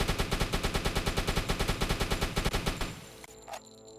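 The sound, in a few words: gunfire from a submarine video game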